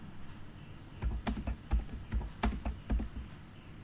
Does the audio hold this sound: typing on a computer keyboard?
yes